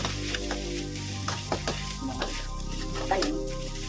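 Sinangag, Filipino garlic fried rice with chili added, fries in a pan with a steady close sizzle and occasional stirring scrapes throughout.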